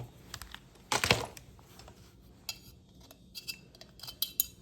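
A gasket is pried off the muffler of an Echo 2511T chainsaw, one louder scraping rasp followed by small scattered clicks and ticks of metal tools, quiet and close.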